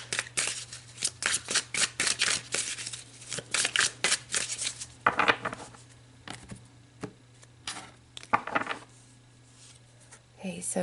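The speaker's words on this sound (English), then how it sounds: "I'm going to pull some more oracle cards about them" Oracle cards are shuffled and pulled in a run of crisp, rapid riffling snaps, close and fairly loud, thinning to scattered flicks and taps later, with a low hum underneath.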